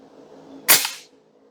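A single sharp crack from an Airforce Condor SS .25 air rifle, a close, brief report that stands out against an otherwise quiet background.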